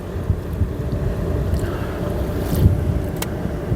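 Wind gusts by the sea buffet a handheld microphone, a rough, rumbling roar that swells and fades, with faint water and boat-like sounds beneath and no voices.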